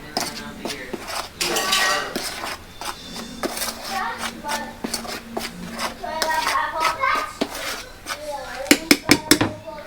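Curry chicken is stirred in a pot in a Jamaican kitchen, with irregular metallic clinks and scrapes of a utensil against the pot while adults and someone talk nearby.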